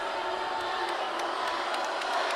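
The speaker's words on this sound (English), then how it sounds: "Crowd on their feet here, as you can see." A volleyball crowd on its feet in a college gym, a dense, steady roar of cheering and shouting, loud and continuous throughout.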